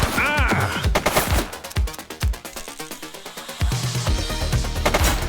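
Rapid bursts of gunfire crackle and pop through a police shootout in The Precinct video game, dense automatic volleys mixed with single sharp shots, loud and close, with brief lulls between clusters.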